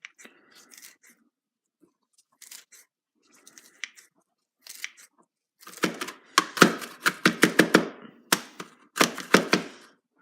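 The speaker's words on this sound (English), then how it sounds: "Roughly chop those." Kitchen knife roughly chopping food on a cutting board, starting with sparse light taps and building into a quick run of loud, crisp, rhythmic chops, close up.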